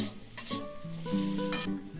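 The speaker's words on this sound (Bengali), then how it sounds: "এবার আমি কাঁচা লঙ্কাগুলো দিয়ে দেবো, একটু নেড়ে নেব।" Close sizzling of onions and green chilies stir-frying in a pan for chowmein, with short bursts of a spatula stirring and scraping, over a low tonal hum.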